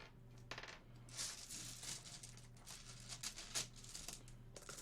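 Dice rattle and clatter across a hard surface in a fantasy tabletop roleplaying game, a run of sharp bright clicks and tumbles over several seconds, fairly close, with a low hum underneath and no talk.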